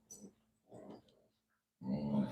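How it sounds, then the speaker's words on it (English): Dogs growling and grunting in short rough bursts nearby, a couple of brief snarls followed by a longer, louder growl, heard indoors at a home craft table. "these dogs are out of control"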